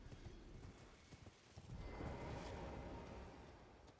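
A spectral steed's hooves clopping in Elden Ring, a run of quick, quiet footfalls that blends into a softer, smeared galloping rush midway, with no speech over it.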